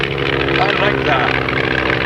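A single-engine airplane side slipping as it descends at a 1993 airshow in Muirkirk, its steady engine drone carrying on throughout under close, continuous talk from nearby voices.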